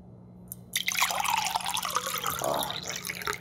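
Water pours into a cup in a steady, close stream, trickling and splashing and rising slightly in pitch as the cup fills, with no one talking over it.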